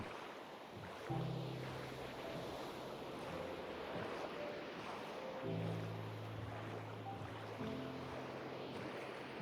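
Ocean waves wash steadily in a Minecraft world, a continuous broadband surf hiss with soft musical tones drifting over it, no talking.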